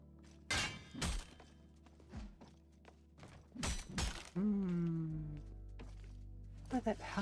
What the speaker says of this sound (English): Oh, your weapons broke again.